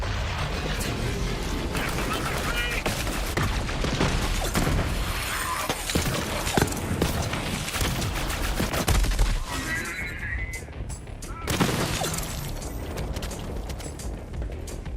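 Jacobs guns firing in Borderlands 3, a dense barrage of sharp, loud gunshot cracks and impacts amid game effects, with a short lull before the shooting resumes; a voice talks over the action.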